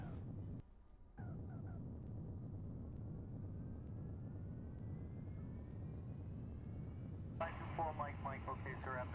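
Airbus A320-200 landing in the X-Plane mobile flight simulator game: a steady, loud engine drone with a rising whine throughout, a brief dip early on, and a voice breaking in near the end.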